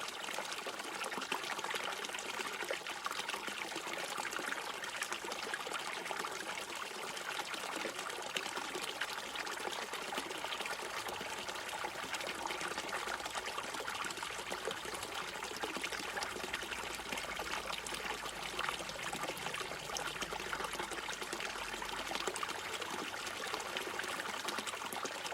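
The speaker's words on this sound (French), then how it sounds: "Observez comme l'eau apparaît douce" Water trickles gently and continuously, a soft, even, steady flow with no breaks and no voices over it.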